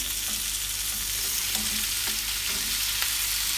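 Tofu frying in a pan with garlic and shallots cooked until wilted, a steady broadband sizzle with occasional stirring scrapes and clinks, close and continuous, no voices.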